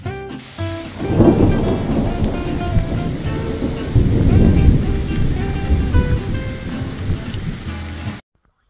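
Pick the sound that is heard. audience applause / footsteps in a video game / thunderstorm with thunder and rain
thunderstorm with thunder and rain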